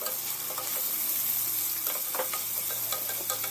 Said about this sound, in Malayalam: അപ്പോൾ സവാളയൊക്കെ തന്നെ അത്യാവശ്യം വഴന്ന് വന്നിട്ടുണ്ട്